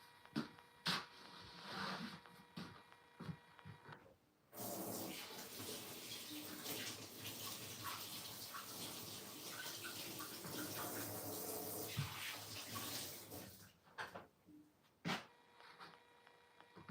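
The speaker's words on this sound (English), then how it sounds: "Yeah, I've washed the Karela." Running tap water rushing steadily over karela (bitter gourd) as it is washed, a long continuous splashing stream of about ten seconds framed by quieter handling sounds and brief clicks.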